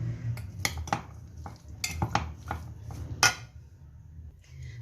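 Spoon clinking and scraping in a bowl while chana chaat is mixed with homemade tamarind chutney, giving irregular close taps and scrapes, alone without talk.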